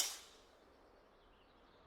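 A single sharp crack of a golf club striking the ball in the golf video game TGC Tours, on the Cades Cove, TN course, loud at the onset and quickly fading into a low, steady ambient hush with no talk.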